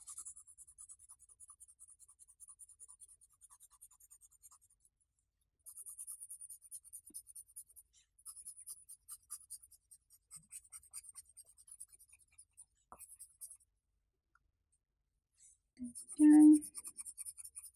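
Pencil shading dark shadows on paper for a baby portrait drawing: soft, close scratchy strokes in repeated bursts with short pauses, a brief voice near the end.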